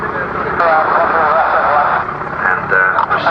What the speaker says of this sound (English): So as the Wildcat comes through the overhead